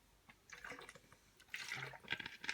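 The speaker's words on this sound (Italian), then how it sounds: "Scusate, bevo un attimo." Water sloshes and gurgles in a small plastic bottle as someone takes a few quiet sips, the liquid sounds soft and close with faint crinkles.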